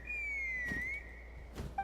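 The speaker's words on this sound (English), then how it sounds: "That sounded like a whistle" A clear sustained whistle in a video game, one long tone that dips and rises again, held steady for about a second and a half, with a brief chirp at the end.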